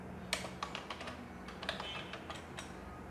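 Someone types on a computer keyboard nearby in a quick run of light, irregular clicks and taps, moderately soft over a faint room hum.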